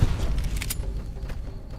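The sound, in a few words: gunshots in the video game Fallout: New Vegas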